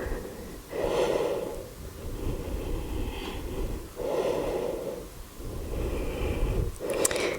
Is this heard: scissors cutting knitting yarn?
no